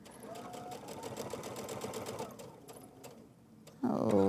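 A sewing machine stitches quilt binding around a mitered corner, running steadily in a fast even rhythm at close range before stopping briefly, then a louder burst of handling noise at the end.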